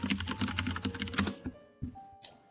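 Rapid keystrokes on a computer keyboard during a shell-coding session, a dense run of clicks for over a second, then a few sparser taps.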